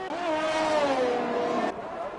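Race cars in a sim racing game cross the finish line at the Austria round, a loud, steady engine whine sliding slightly downward in pitch before cutting off abruptly near the end.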